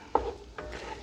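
Seafood chowder vegetables sauteing in a skillet, with a soft stir and scrape near the start and a quiet steady sizzle underneath, close and fairly faint, with no talking.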